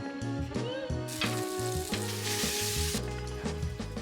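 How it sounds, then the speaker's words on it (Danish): Salmon fillets fry skin side down in a pan, a steady close sizzle and crackle heard under background music. "Så er det bare at stege dem på skinsiden."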